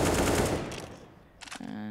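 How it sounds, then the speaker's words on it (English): Automatic gunfire in the CS:GO video game is sprayed into a smoke cloud during a competitive match, a loud sustained burst that fades and is then followed by a second rapid burst. "a lot of bullets spent towards that smoke"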